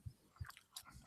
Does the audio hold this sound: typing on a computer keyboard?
no